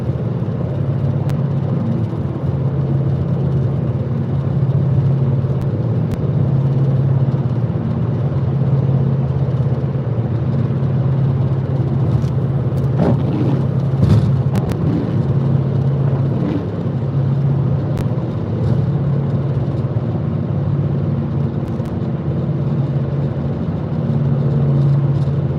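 A car driving at night near Longmont, Colorado, heading toward Colorado Springs, with a steady, loud engine and road drone held throughout, no talking.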